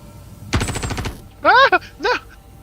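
Rapid burst of automatic gunfire in the sci-fi shooter game Star Citizen, a loud close volley of about a dozen quick shots followed by a few electronic chirps and tones.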